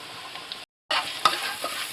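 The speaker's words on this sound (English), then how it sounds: "we're gonna fry this a bit. Get that in the oil" Garam masala, garlic and ginger frying in hot oil, a close, bright sizzle with a brief cut of silence partway, then the hiss resumes with a small clink.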